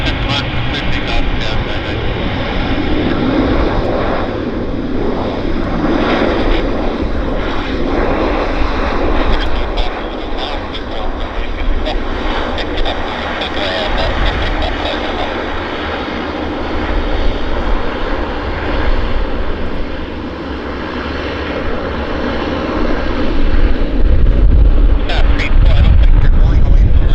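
A Saab 340 turboprop takes off at Vancouver Airport, its engine and propeller roar loud and sustained throughout, swelling near the end, with radio chatter and talk running underneath.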